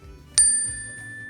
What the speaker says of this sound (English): I will ring the chime. It sounds like this.